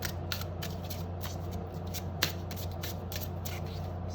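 Tarot cards from a new deck being shuffled by hand at close range, with soft rapid riffling bursts repeating in an even rhythm over a quiet background.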